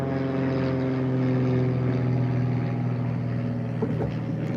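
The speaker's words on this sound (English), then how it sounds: "There's an aircraft above." An aircraft passes overhead above a home garden, a steady, continuous engine drone that holds even in loudness throughout, with no voices.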